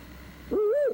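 A man imitates an owl with a single clear, loud hoot that rises and falls, coming in after a brief stretch of quiet outdoor background.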